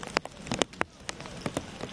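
Scattered raindrop impacts tapping and splashing on a surface during a heavy May downpour in a drought-prone cattle area, heard as irregular, fairly close drips over a soft rain hiss, no voices.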